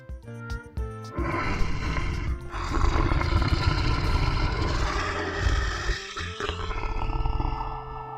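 A lion roars, long and rumbling, over several seconds with a couple of grunting bursts at the start, loud and close, set against a musical children's alphabet song backdrop.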